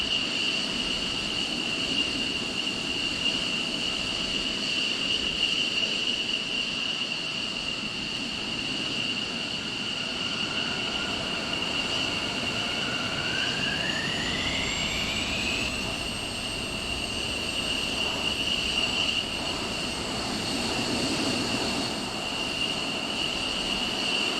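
Military aircraft engine in Arma 3 hums steadily at a constant loud level, with a rising whine sweeping up midway before settling into the drone, and no voices over it.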